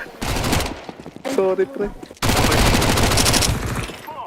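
Gunfire in the video game Counter-Strike 2: dense bursts of rapid automatic fire, loud and close, in two long volleys separated by a brief gap where a voice speaks.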